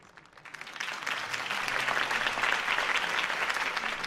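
Crowd applause rises after a campaign speech in the Batman Telltale game, starting quietly and swelling into sustained, dense clapping from a large audience.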